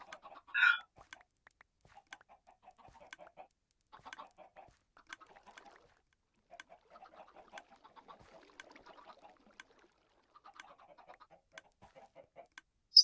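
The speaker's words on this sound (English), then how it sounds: "I should probably check on my chicken farm too" Chickens on a farm in a video game give off soft, scattered clucks in short bursts, with one sharper squawk near the start, all fairly quiet and spread across the scene.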